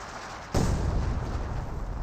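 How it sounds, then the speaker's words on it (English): A Priest self-propelled artillery barrage in Company of Heroes 2 opens with one sudden loud boom, then a sustained rumbling roar that carries on without easing. "Priest signed for a barrage somewhere."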